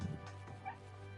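A short dog bark or yip from a dog in the online role-playing game Final Fantasy XIV, one quick call heard over a steady hum of game ambience.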